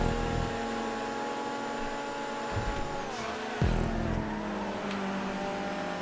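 A Cheetah Classic race car engine in GTA 5 drones steadily at mid volume, its pitch dipping and surging with gear changes around the three- and four-second marks, without talk.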